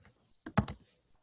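Keys tapped on a computer keyboard while someone enters equations, a short burst of three or four quick, close clicks with near silence around them.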